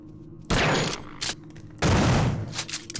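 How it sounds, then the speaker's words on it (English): Two loud, close bursts of gunfire ring out in System Shock 2 during a dining hall ambush by a cyborg assassin, each a heavy crack with a lingering tail, separated by about a second of low ambient hum. "Okay, maybe it's 2 shots."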